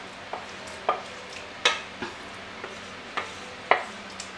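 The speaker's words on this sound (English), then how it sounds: "Go ahead and give it a nice mix." A spoon scrapes and taps in a pan while mushrooms are stirred into creamy risotto, giving soft intermittent knocks every half second or so over a low steady background hiss, near and fairly quiet.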